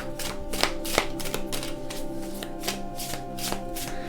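A deck of tarot cards being shuffled, with steady riffling and repeated sharp snaps of cards at close range, continuous and clear throughout.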